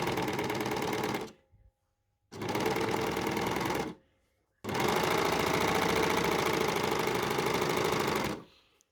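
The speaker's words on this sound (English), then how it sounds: "I'm going to overlock, and I'm going to take my differential feed down a little bit." An overlocker serger stitches a T-shirt with the differential feed turned down, running in three loud, rapid, buzzing bursts, the last one longest, with short silent pauses between them.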